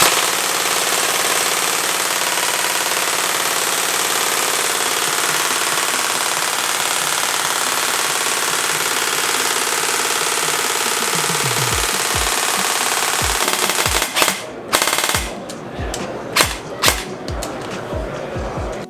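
An airsoft gun loaded with a 250-round magazine empties in sustained full-auto fire, a loud, continuous buzzing stream that breaks off near the end into a few separate bursts and sharp single cracks.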